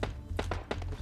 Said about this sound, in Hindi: वो देखो बंदे के कूदने की आवाज़ आती है